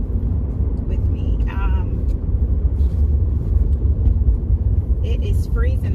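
A car drives along a road on a freezing day of errands, its low engine and tire rumble steady throughout while a person talks over it.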